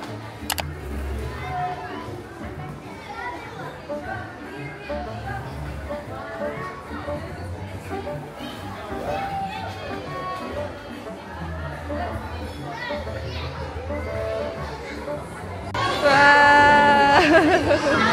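Children play and chatter at a Minibounce indoor play centre birthday party in Dubai, a steady hubbub of young voices with occasional shrieks, swelling louder near the end.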